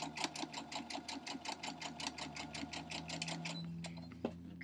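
Sewing machine stitching a sawtooth star quilt block, a steady rapid run of close, even needle strokes that slows and stops near the end.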